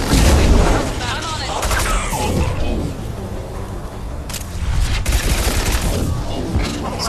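Gunfire and impacts in the video game Mass Effect 2 crackle in dense, loud bursts alongside booms, with a voice talking over the action throughout.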